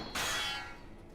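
A sharp metallic clang of sword blows in the video game Hakuoki: Kyoto Winds, one loud strike ringing out bright and then fading over about a second, heard alone.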